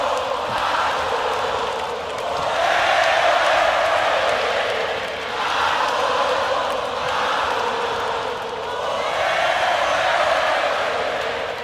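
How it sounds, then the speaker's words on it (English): A huge live crowd at a concert in Mexico roars continuously, swelling and dipping in rhythmic waves of loud collective chanting and cheering. "Mexican crowds are just on another level."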